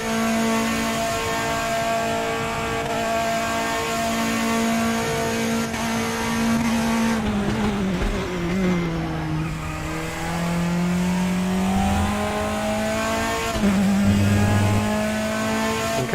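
A race car engine in the RaceRoom sim racing game at Bathurst holds a loud, steady high drone that dips and climbs through gear and throttle changes, continuous with no talking.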